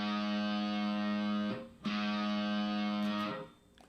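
A distorted electric guitar rings out a sustained open A string tuning note, stops briefly, then sounds the same note again before it fades, with no talking.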